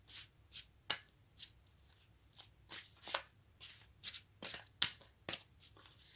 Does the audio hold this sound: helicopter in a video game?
no